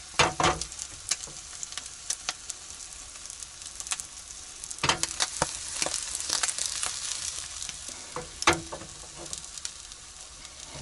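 Eggs frying in a pan at a mountain campsite, a steady crackling sizzle with sharp pops and spits scattered throughout, close and alone.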